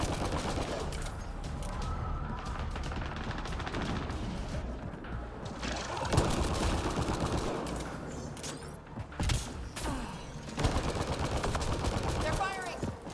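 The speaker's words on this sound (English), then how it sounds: "They're firing." Sci-fi gunfire in Mass Effect Andromeda multiplayer, sustained bursts of shots mixed with mechanical clanks and battle noise, with brief voice callouts.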